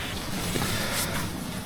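Wind gusts across the slopes of Mount Piramid in Bondowoso, a loud, close, rushing buffet battering the microphone throughout with no break.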